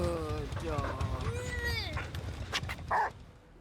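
The Houndmaster's dog in a video game gives a quick run of yips, whimpers and short barks that mingle with a voice and end in a sharper bark near the close.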